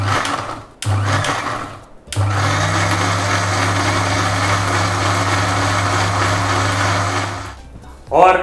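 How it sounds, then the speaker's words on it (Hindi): A blender grinds a hot butter chicken mixture with a loud, steady whir in several bursts. It stops briefly twice, then runs continuously before cutting out. "अब इस मिश्रण को पीस लेते हैं"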